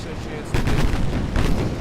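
Torpedo hits exploding on a warship in the naval game Ultimate Admiral Dreadnoughts, a dense rumbling burst of booms that swells about halfway through and holds loud, with a voice faintly mixed in.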